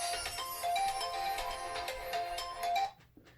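A mobile phone ringtone plays loudly and steadily as a bright repeating melody, then cuts off abruptly near the end, leaving a brief quiet tail.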